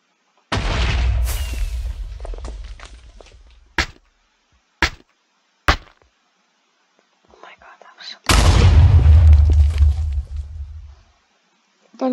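Two heavy booming blasts in the game Minecraft, each a loud low rumble that decays over a couple of seconds, separated by short sharp pops and near-silence.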